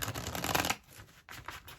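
Tarot cards are reshuffled by hand in a quick dense riffle that stops abruptly, followed by lighter card shuffling sounds close up, with no one talking.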